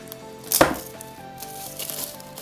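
A blade slicing through the plastic shrink wrap on an OBSBOT Tail Air PTZ streaming camera box, one sharp close cut followed by faint crinkling, over a quiet background tone.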